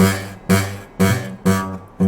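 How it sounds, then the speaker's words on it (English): A guitar note repeatedly plucked, five times at a steady pace, each with a buzzy, rattling tone as the string vibrates against the fret, close and clear. "you will almost always get a buzzing sound"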